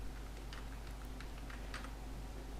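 Fingers tap out a short word on a computer keyboard, giving a quick run of soft, close key clicks over a low background hum.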